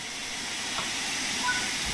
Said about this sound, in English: the cylinder should be blown clear and steam jetting out of the wheel